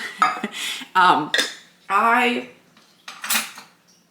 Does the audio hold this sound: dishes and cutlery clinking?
yes